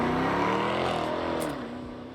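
Loud, close rumble of a Mercedes-Benz R-Class minivan's 500-horsepower V8, revving then easing off as its pitch glides down over about two seconds.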